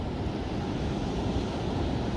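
Small ocean waves break at a surf spot where beginners are learning, heard as a steady, broad wash of surf with wind noise across the microphone.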